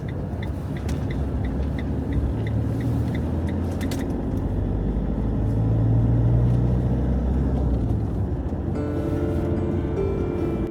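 A van driving along a country road toward Duffus Castle in Scotland, a steady low engine drone and road rumble from inside the cab, with a few ticking clicks early on and a brief shift in tone near the end.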